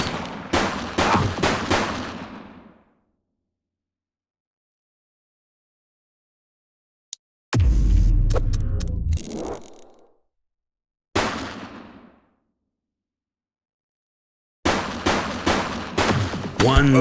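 Loud bursts of rapid gunfire in a police shooter video game, three to four separate volleys with silent gaps between them, close and punchy with heavy low-end impact.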